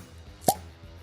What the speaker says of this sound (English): not a bad cork pop at all